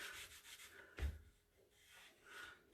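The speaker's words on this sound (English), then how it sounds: "I use my fingers and I rub it over the surface of my transfer to make sure it's all adhered down" Soft, quiet rubbing of fingers pressing a vinyl transfer down onto a custom Valentine's Day sign, a low scuffing with one firmer stroke near the middle, no voices.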